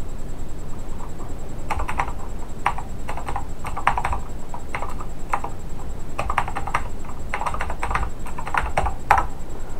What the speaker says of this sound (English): I'll type in it right here.